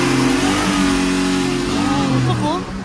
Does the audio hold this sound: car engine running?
yes